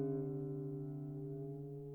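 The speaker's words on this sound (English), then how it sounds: "we're going to go to the 5th fret of the A string to tune the D string" A single sustained plucked guitar note at the fifth fret of the A string, steady and clear, slowly fading over two seconds with no other sounds.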